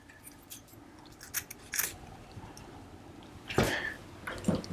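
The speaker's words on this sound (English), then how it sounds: "I'm gonna fold these over and cut from the bottom up, so I get that nice V shape in it." Scissors snipping ribbon for a St Patrick's Day wreath bow, a few short crisp cuts spread across the moment, fairly close and quiet with no talking.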